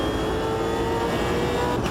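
A V8 Supercar engine in the racing game Automobilista 2 revs hard under throttle on the Nordschleife, a loud continuous close-up drone with steady harmonic whine.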